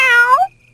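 An animated cat gives a single loud, close meow, rising and then falling, that breaks off suddenly into near silence.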